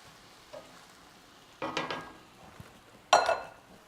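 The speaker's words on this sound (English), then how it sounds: "we're going to add in about 4 or 5 thyme sprigs and just give that a nice stir to incorporate that" Thyme sprigs are stirred into mushrooms sautéing in a pan. A spoon scrapes and knocks through the food in two short bursts about a second and a half apart, close and moderately loud, over a faint background sizzle.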